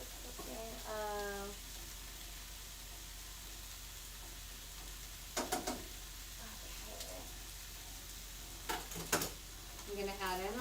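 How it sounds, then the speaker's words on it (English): Noodles cooking in a pot give a steady, low sizzle and bubbling hiss throughout, broken by a few brief clinks and knocks, with a person speaking softly at moments. "These noodles are cooking."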